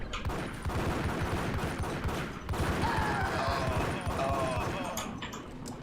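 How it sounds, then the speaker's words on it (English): Beretta pistol fire in the video game Max Payne, quick strings of shots crackling alongside busy action sounds and a tonal game effect in the middle, with someone talking over much of it. "I suck at playing this game with a Beretta now"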